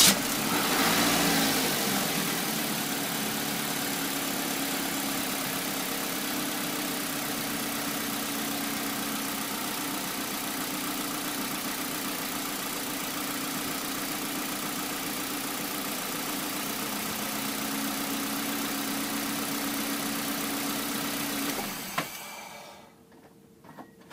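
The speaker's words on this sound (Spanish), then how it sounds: "Como pudimos ver, encendí el auto" A car engine starts and settles into a steady, close idle that hums evenly for about twenty seconds before cutting off abruptly near the end, with no voices.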